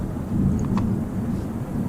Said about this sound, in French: On a de la pluie maintenant.